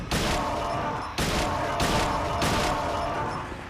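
Gunfire in Silent Hill from the HD Collection, loud and dense, with a few sharp bursts of shots over a steady rumbling game background.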